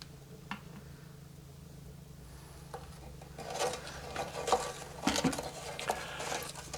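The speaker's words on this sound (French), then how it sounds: "Et on mélange pendant au moins 10 minutes." Homemade soap bubble solution with sugar added being stirred, a soft scraping, swishing rub of utensil in liquid in a container, starting quiet and growing busier and louder partway through, with light clinks, no talking.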